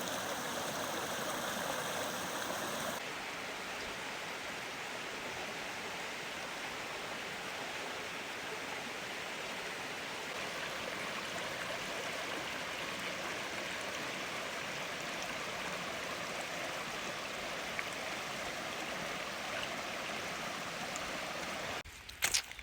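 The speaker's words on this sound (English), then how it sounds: "this is our last stream crossing, and I'm gonna miss these streams out here" Stream in the Citico Wilderness of Tennessee, a steady broadband rush of flowing water that holds evenly throughout, with a brief handling clatter at the very end.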